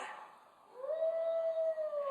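Person at a worship service letting out a drawn-out wolf-like howl, a voice imitating the animal: a rising, sustained moaning tone lasting over a second above a dim room murmur.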